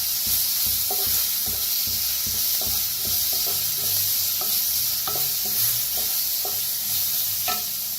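Spices and a potato mixture roasting in a pan for kadhi vada, fennel seeds among the spices, with a steady close sizzle and repeated scraping stirs throughout, no voices.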